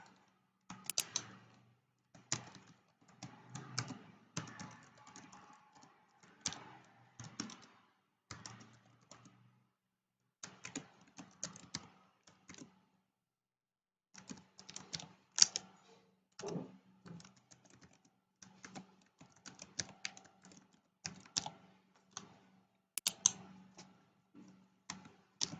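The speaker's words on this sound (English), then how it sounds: "Let me type in a more difficult password." Someone types a password on a computer keyboard: faint, quiet key clicks arrive in irregular bursts with short pauses between them, alone in a near-silent room.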